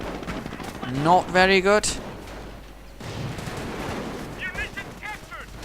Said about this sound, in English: Luftwaffe troops getting torn apart by all the automatic fire